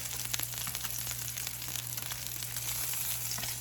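Salmon pieces frying in a pan, a constant close crackling sizzle with scattered sharp pops under a faint steady hum.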